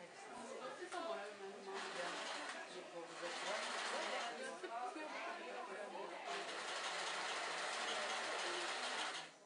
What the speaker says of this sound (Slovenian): smo srečali tudi eno mamico za šivalnim strojem